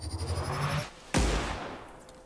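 A plasma rifle in The Outer Worlds fires a single loud, sharp blast that booms and trails off. A softer whirring hum comes before it.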